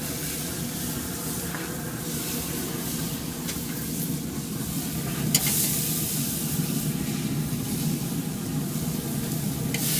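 Meat sizzles on a Rec Tec grill after being turned for crosshatch marks. A steady, close hiss runs throughout, with a brief sharper crackle near the middle and one short spoken word.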